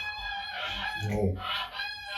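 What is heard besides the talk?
geese honking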